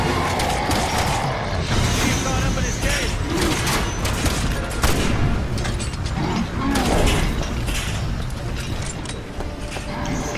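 Gunfire in Resident Evil 6, with dense mechanical clatter and rapid shots layered over game noise and fighting sounds, loud and continuous, with someone talking over it at times.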